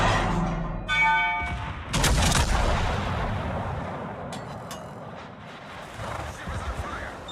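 Naval guns fire in World of Warships as a battleship salvo: heavy booming shots with a deep rumbling tail, plus a few sharper distant reports later, under tonal game sounds at the start.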